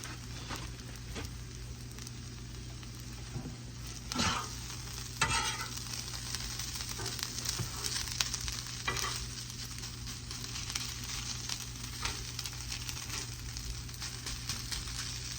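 Fried rice with a knob of butter sizzles in a hot pan, a soft, constant crackle broken by occasional scraping stirs, fairly faint and without speech.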